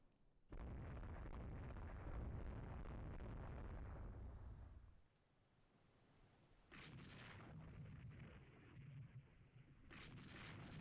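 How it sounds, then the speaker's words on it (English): Heavy naval shell fire in the warship strategy game Rule the Waves 3: a loud, sustained roar of explosions and artillery for several seconds, a brief lull, then further booming bursts of gunfire. "Quite a bit of shell fire still going on"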